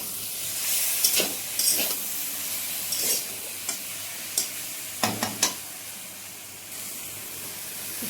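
Mustard, poppy seed, ginger and cumin paste sizzles and fries steadily in hot oil in a small home kitchen, with a continuous hiss broken by several sharp stirring scrapes and clinks close by.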